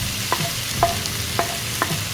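Canned and fresh, overripe tomatoes cooking in a pan for a chilli and pepper dip, a low continuous sizzle broken by four evenly spaced knocks or stirs, close by, no voices.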